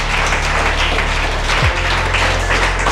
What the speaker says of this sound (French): Je vous demande encore de les acclamer.